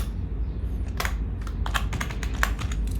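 A computer keyboard is typed on in a quick run of crisp, close keystrokes, about a dozen taps in uneven rhythm over a low steady hum, with no talking.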